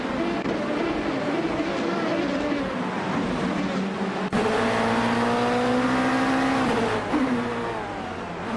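2014 IL15 race cars scream around a track, with sustained high-pitched engines rising and falling together and a louder surge midway, under a voice talking.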